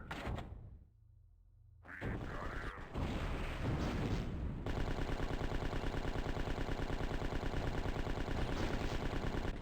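A bigger gun fired in a video game lets off rapid, loud automatic bursts that settle into a sustained rattling stream after a few heavy impact sounds and a short quiet moment, with no talk over it.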